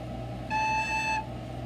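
A recorder sounds a single sustained note A, clear and steady for about three-quarters of a second against a quiet background hum, then stops.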